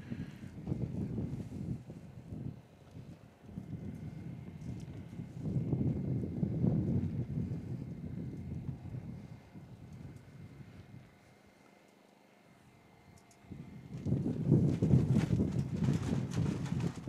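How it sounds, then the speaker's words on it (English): Steady breezy wind blowing across an open golf course, rushing and buffeting at low pitch, with gusts rising and falling, a brief lull near the end, then strong buffeting again. "But yes, it definitely is breezy out here."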